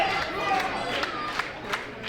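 Crowd of London wrestling fans roaring and chanting at a live show, a steady dense wall of noise with scattered shouts and whistles rising above it, nearby and loud throughout.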